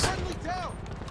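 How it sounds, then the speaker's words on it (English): A single explosive shotgun blast in GTA Online, a sharp close burst followed by a brief ringing, metallic tail, short and loud over a busy game background. "I did not know I had an explosive shotgun"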